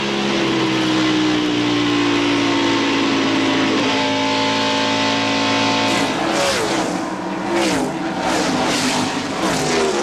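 NASCAR stock cars, including Fords, racing at Darlington in 1995: loud, sustained engine drones with shifting pitch as cars roar past in quick succession, one after another.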